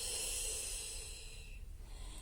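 A long, steady exhale through the nose or mouth during a Pilates breathing exercise, soft, close and breathy with a hissing edge, alone and without talk.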